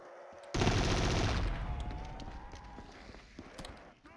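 A minigun in a video game lets off a loud dense burst of rapid fire lasting about a second, then a ringing, fading tail of scattered rattles and clicks.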